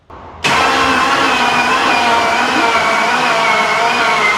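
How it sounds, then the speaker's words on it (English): Engine of a hurricane-damaged truck cranking slowly, a faint click then a sudden loud, continuous labored grinding whir that holds steady for several seconds, close and unaccompanied by talk. "She's definitely turning over slow, isn't she?"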